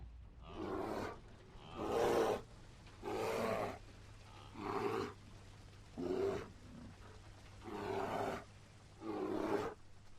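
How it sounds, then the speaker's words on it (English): Seven evenly spaced, rumbling roar-like bursts, each about a second long over a low steady hum, presented as the roars of an IS-3 tank in War Thunder; no one speaks. "The IS-3 lets off a series of loud roars and retreats to collect its bounty."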